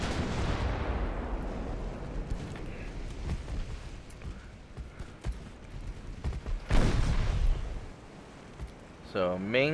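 Naval main guns, 10-inch calibre among them, firing in the warship game Ultimate Admiral Dreadnoughts: a loud booming salvo opens, then a second heavy blast rolls out later, with scattered distant reports between and someone talking throughout.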